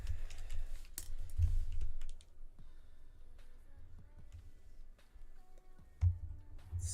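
Typing on a Kill la Kill themed computer keyboard gives rapid, close clicking keystrokes in quick bursts, louder at first and then lighter and more scattered, with no talking.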